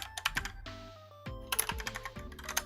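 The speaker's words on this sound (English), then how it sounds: "So we're gonna do a typing test." Rapid typing on a computer keyboard during a Monkeytype typing test, dense clattering keystrokes in quick irregular bursts with a short pause midway, close and clear with no talking.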